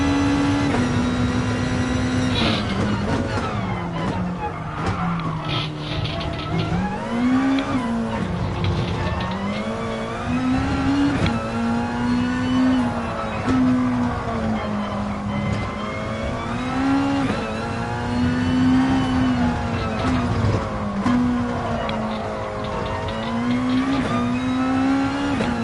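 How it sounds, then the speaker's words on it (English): A race car engine in the Gran Turismo video game at the Fuji circuit, revving high and steady throughout, with the pitch rising and dipping through gear changes and a continuous droning tone. "Gotta start revving the engine out."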